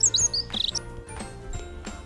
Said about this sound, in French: Les oiseaux chantaient.